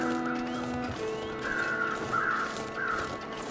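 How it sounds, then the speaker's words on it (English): Crows caw in the snowy wilderness of the video game The Long Dark: a few harsh calls at moderate distance, sounding over a steady hiss of wind. "So we've got two separate sets of birds"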